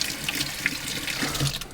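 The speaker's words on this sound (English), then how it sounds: "You can always run it under hot water." Hot tap water runs steadily over a tea towel, a close, continuous splashing stream with no voices.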